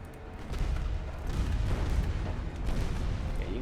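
Warship guns fire during a British fleet engagement in the naval game Ultimate Admiral Dreadnoughts, with several heavy booms and rumbling volleys rolling one after another over a few seconds and no speech.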